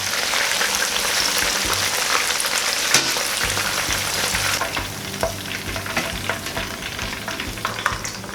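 Chicken wings for Korean fried chicken refry in hot oil, a dense continuous sizzle and bubbling that stays loud and steady throughout, with small crackles and no voices.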